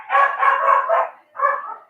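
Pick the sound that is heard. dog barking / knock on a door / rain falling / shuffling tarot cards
dog barking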